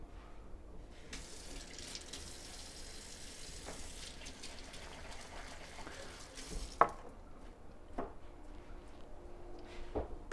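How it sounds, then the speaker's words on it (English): Hands washed under a running kitchen tap in a home baking setting, a steady close hiss of flowing water with soft splashes and a few sharper knocks against the sink, no talking. "I'm going to go ahead and wash my hands real quick."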